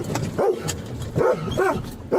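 A dog lets out a few short barks and yips, spaced unevenly and heard fairly close. A low room murmur sits underneath.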